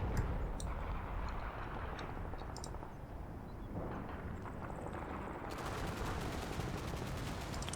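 Bursts of machine gun fire crackle in the Combat Mission: Blood on the Snow war game, short sharp rattles scattered over a dense rumbling battlefield din, some shots distant and others closer.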